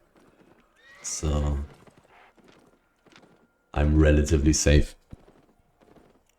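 Gallant Horse mount in Albion Online, clip-clopping hooves and a loud whinny in two bursts, with someone talking quietly over the game sounds between them.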